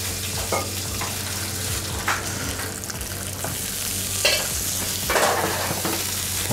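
A pork chop frying in a pan, a loud, continuous sizzle close up with occasional scrapes and clinks as it is stirred.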